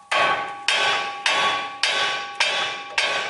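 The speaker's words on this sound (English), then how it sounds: "A lot of times you can just take the nut partially off and strike this like that right there pretty hard" A hammer strikes a stuck front-end part on a Ram 3500 pickup with the nut partly backed off, six hard ringing metallic blows at an even pace of about one every half second, each decaying quickly.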